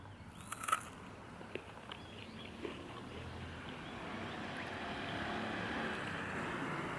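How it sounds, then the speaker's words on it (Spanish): Strong wind blowing against a cyclist bikepacking through Japan: a steady, loud roar of gusts buffeting the microphone, building slightly over time, with a few faint knocks early on and no voices. "Hace un viento impresionante que no me deja avanzar"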